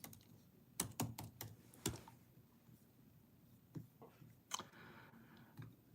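Typing a search into a computer keyboard, a few close, sharp keystroke clusters in bursts with short pauses between, fairly quiet and alone in a still room.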